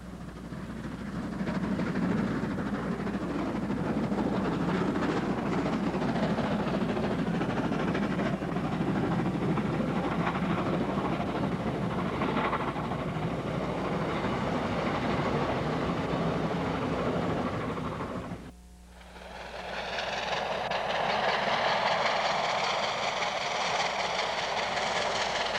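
Two steam locomotives, Pacifics 858 and 482, run double-headed at a railway festival. A long, loud, continuous rolling roar with rhythmic chuffing dips briefly, then resumes with a brighter, hissing texture.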